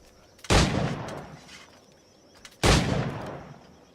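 Two loud, close gunshots from a firearm in Assassin's Creed IV Black Flag, each a sharp blast with a long rumbling decay, spaced about two seconds apart.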